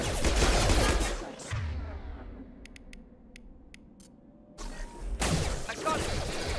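Gunfire in the video game Mass Effect 2, loud bursts of rapid shots and blasts up close, fading to a lull with sharp metallic clicks before the firing resumes.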